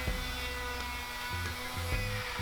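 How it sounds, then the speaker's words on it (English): Router whining steadily as it cuts a through mortise in reclaimed oak, a sustained high-pitched motor tone with brief dips and pitch shifts as the bit bites, loud and close with no talk. "I use those boards as the boundaries of where my router needed to go."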